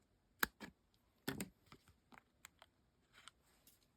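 Small scissors snipping tiny strips from foam dimensionals, a few quiet crisp clicks and cuts at an uneven pace, close and faint with no voices.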